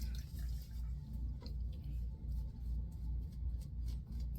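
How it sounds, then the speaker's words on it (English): Water runs and splashes steadily at the sink while a shaver wets his face before lathering with DentonMajik Pink Floyd soap, a continuous low rush with small irregular splashes close by. "let me wet my face and we'll lather up"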